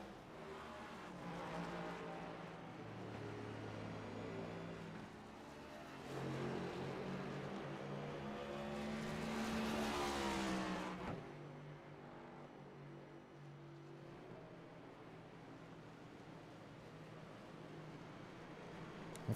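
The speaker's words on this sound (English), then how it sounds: "A couple of cars in the back go around." Race cars circling a track during a race, engines droning at a steady distance, then one car swells closer with a rising whine that peaks and drops away abruptly, followed by a fainter continuing hum.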